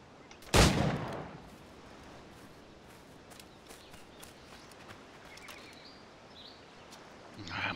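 A single loud gunshot from the pirate-era game Assassin's Creed 4 Black Flag cracks out near the start, then fades into a quiet ambient backdrop with faint game sounds.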